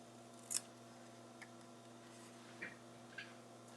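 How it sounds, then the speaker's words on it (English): Metal snips cut out a paper cupcake shape in a quiet room, giving a few faint, crisp snips spaced apart over a steady background hum. "I'm going to take my snips and I'm going to cut that out super quickly"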